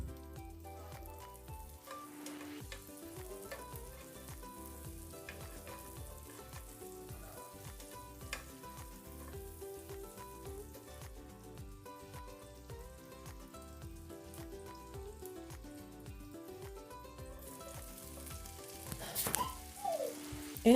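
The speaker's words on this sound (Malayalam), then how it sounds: "ആദ്യം ഉള്ളി ഒന്നിട്ടിട്ട് വേണം ഒന്ന് വഴറ്റിയെടുക്കാനായിട്ട്." Chopped onion sautés in a pan for an Italian white-sauce pasta, giving a soft, continuous sizzle that stays faint and even, with no talking.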